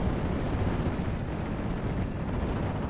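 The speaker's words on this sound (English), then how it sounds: "they immediately surrender as their vehicle gets blown up" A vehicle explodes in the World War II strategy game Steel Division: Normandy 44, a dense, rumbling blast that holds steady and loud for a few seconds with no voices over it.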